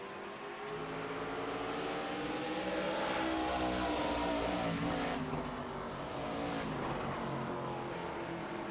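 Race cars at Lucas Oil Indianapolis Raceway Park roar around the track in a loud, continuous engine drone that rises and falls as cars rev and pass, with no voices.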